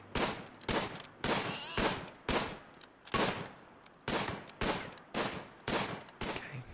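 Repeated bursts of gunfire from the video game RimWorld ring out in a steady rhythm, about a dozen sharp, loud volleys with brief gaps between them, heard alone without talk.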